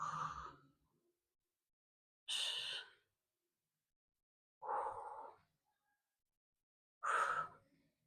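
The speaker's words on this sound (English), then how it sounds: "Exhale up. Inhale down." Breathing paced to a dumbbell chest press: four separate close breaths, rising and falling in turn with pauses of a second or two between them, no other sound around.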